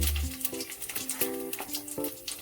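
Radhuni seeds and a bay leaf go into hot frying oil left over from frying rohu fish, giving a close, crackling sizzle with small pops, steady at first and then easing off.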